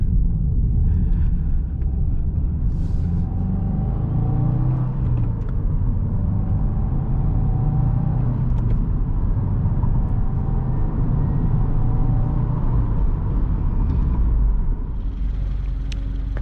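Steady engine rumble and road noise from inside a turbocharged car cruising at night, a continuous low drone with faint rises in pitch, no talking.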